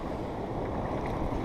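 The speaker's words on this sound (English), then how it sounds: "The waves are ripping right up" Ocean waves churn and break at Cape Cornwall, a dense low roar of surf mixed with wind buffeting, heard close from a sea kayak.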